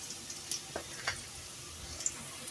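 Leafy greens fry in a pan on a stove over lowered heat, giving a faint, steady sizzle with a few soft clinks and stirring sounds, close and quiet, with no voices.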